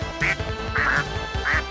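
Ducks quack loudly nearby, three distinct nasal calls spaced about half a second apart, with nothing else heard.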